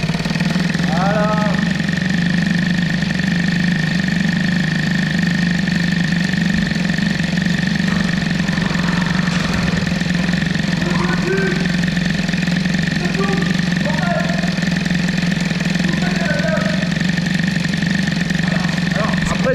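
A Peugeot 103 moped fitted with a Malossi reed valve idles at lowered idle speed, a loud, steady, buzzing two-stroke drone heard close up throughout. A few faint voices sound underneath it.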